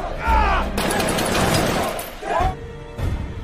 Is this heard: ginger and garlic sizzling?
no